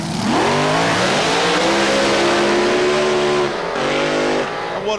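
Alcohol-fuelled dragsters race at Santa Pod in 1992, a loud sustained engine roar with rising and falling pitch as they pull through gears, close and dominant for the whole stretch.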